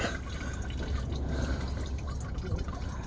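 Coolant draining and flushing out of a Nissan 350Z radiator from the drain on the bottom driver's side, a steady close watery rush with dripping and splashing that runs unbroken throughout.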